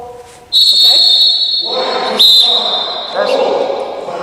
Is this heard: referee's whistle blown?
yes